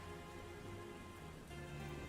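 Soft rain in Castlevania game music, a faint steady patter of drops over a low quiet musical drone, with no voices.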